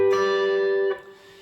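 A G major triad strummed once on guitar rings out clearly up close for about a second. It is then muted, leaving a faint decay with no talking.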